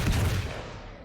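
Gunfire in the video game Alan Wake's American Nightmare: one loud burst of shots right at the start, with a booming low end and a long fading tail, and no voices over it.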